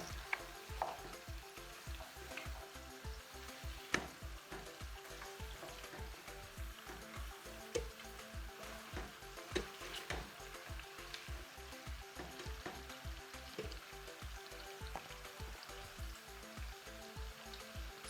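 Onions frying gently on low heat in a pot, a soft steady sizzle and crackle that stays quiet and even throughout with no talking.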